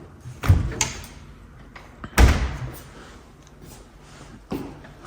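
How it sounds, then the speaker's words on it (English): A heavy refrigerator door in a luxury home swings shut with a soft-close thud, followed by a second firmer close and a fainter third bump, each a low muffled knock over quiet room tone. "soft closed doors for the refrigerator as well"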